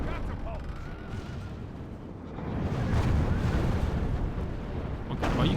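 Medieval siege artillery firing during a castle-wall assault in the Medieval II: Total War video game, heavy rumbling booms that swell midway with battle noise, under someone talking.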